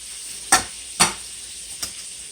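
Onions and burgers fry on a griddle with a low, steady hiss, broken by three sharp spatula scrapes or taps, the last one softer, with no talk.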